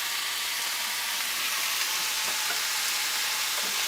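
Crawfish tails with their juice and fat sizzle in a pot of sautéed onions, a loud steady frying hiss that fills the whole stretch.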